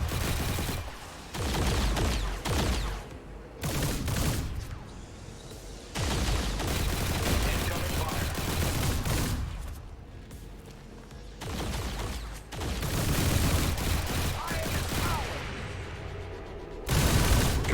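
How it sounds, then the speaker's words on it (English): Heavy gunfire and shooting in XCOM 2, repeated loud bursts of automatic fire and booming blasts separated by brief quieter gaps, close and intense throughout. "God, there's a lot of damn shooting going on."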